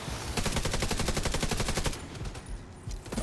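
A light machine gun lays down sustained suppressing fire in a video game, a dense rapid stream of shots that runs steadily for about two seconds and then thins into scattered, fainter reports.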